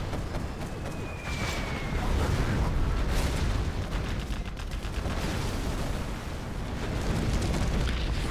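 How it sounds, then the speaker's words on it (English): A dense, continuous rumbling roar from an anthrax bomb explosion in a real-time strategy battle, loud and sustained throughout with crackling blasts layered over a heavy low boom. "Anthrax bomb coming in for Fargo"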